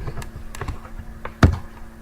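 A few distinct keystrokes on a computer keyboard, spaced taps with one sharper, louder clack near the end, close against a faint background hum.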